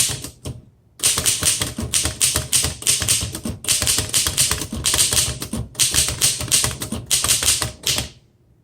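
A 1913 Royal 5 antique typewriter clatters under steady typing, with dense rapid key strikes in long bursts separated by brief pauses, close up and without talk.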